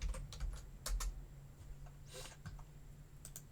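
Several bursts of keystrokes on a computer keyboard, tapped out while entering Python code, with quick clustered clicks near the start and again later, close and fairly quiet over a low steady hum.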